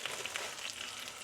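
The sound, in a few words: sourdough bread toasting in ghee in a pan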